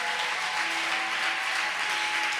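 A church congregation applauds and cheers for the Lord in a continuous, dense roar of clapping that holds at full strength throughout, with no single voice standing out.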